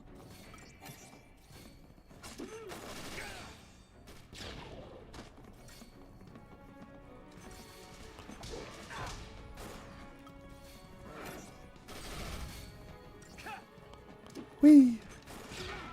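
Grenade explosions crash and smash through enemies in the Final Fantasy 13 video game, a string of scattered bursts with one loud hit near the end, with intermittent talking over the game sounds.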